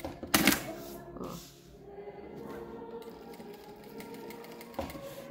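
Sewing machine running a continuous stitch along a marked line on fabric, a steady close mechanical whir with brief pauses and a stop near the end.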